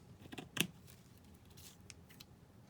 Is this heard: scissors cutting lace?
yes